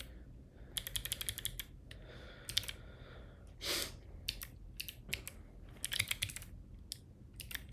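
Bursts of rapid keystrokes on a computer keyboard sitting in an awkward spot on a desk, clicking in quick irregular runs separated by short pauses, close and fairly clear with no talking.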